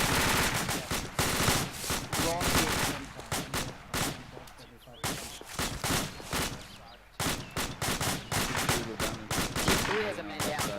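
Rapid bursts of rifle and machine-gun fire during a fire team operations course exercise, loud, close cracks in quick volleys with brief pauses, shouted voices heard between shots.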